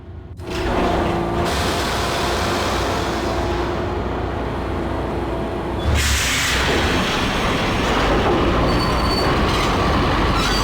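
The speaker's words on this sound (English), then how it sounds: "The train lit up like a Christmas tree." A train runs loud and steady in the video game Max Payne, with grinding wheel and rail noise that surges louder after a few seconds and carries on continuously to the end.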